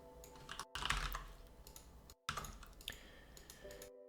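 Typing on a computer keyboard while writing game code, rapid clusters of close, crisp key clicks in two bursts separated by brief silent gaps.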